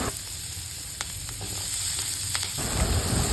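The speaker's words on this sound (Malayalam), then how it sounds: "അങ്ങനെ അത് മുഴുവനും ഇതുപോലെ ഒന്ന് ഫ്രൈ ചെയ്തിട്ട് എടുക്കണം." Pappadam fries in hot oil with a continuous crackling sizzle and a few sharp pops, growing louder and denser near the end.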